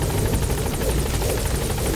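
Steady, loud helicopter rotor drone in a video game, a continuous close whir and buzz with rhythmic blade chop and no pauses.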